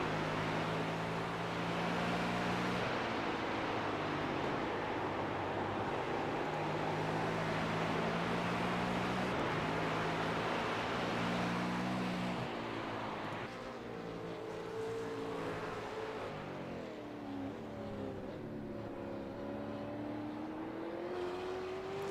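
A V8 race car powers out of a turn, its engine droning steadily and then climbing in pitch as it accelerates, heard at moderate distance over a constant rumble with no talk.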